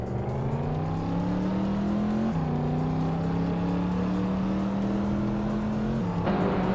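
A 1995 Ferrari F50 in a racing video game roars at high revs, its steady engine tone climbing with brief dips at gear shifts, loud and close throughout with no talking.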